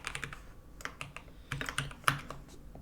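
Steady typing on a computer keyboard while writing code, a rapid irregular patter of close, crisp key clicks with a few sharper strokes, no voice over it.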